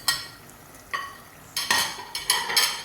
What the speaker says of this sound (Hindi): ये सब मसाले डालकर हम इसको अच्छे से मिक्स कर लेंगे